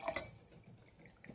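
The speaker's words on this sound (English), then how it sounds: "it will still drip, but not nearly as bad as it would have" A few soft drips of coffee falling from a coffee maker, quiet and close with small splashy taps, heard alone.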